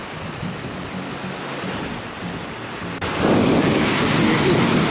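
A river rushing near a stony mountain trail, a broad constant roar of flowing water that swells louder partway through, with wind buffeting the microphone.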